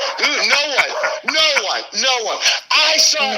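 Pet dogs bark in a home in short, agitated bursts, some sounding close and loud, with yips and whines mixed in and people talking over the noise.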